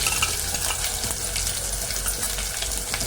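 Ginger garlic paste frying in hot peanut oil, a steady, close crackling sizzle with faint stirring, continuous and even throughout with no talking.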